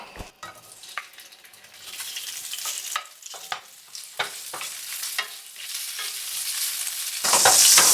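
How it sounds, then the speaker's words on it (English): Sausages and pork for a Brazilian feijoada brown in an oil-slicked pan, giving a steady sizzle and frying hiss. A utensil stirs and scrapes the meat repeatedly, and the sizzle swells loudly near the end. "In this pan, we're gonna saute and brown all the sausages, right?"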